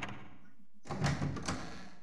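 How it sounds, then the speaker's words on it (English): A locked door in the Resident Evil 3 remake rattles when tried: after a short silence, a cluster of loud thumping knocks and clatters rings out close by for about a second, then fades. "Can't unlock that door."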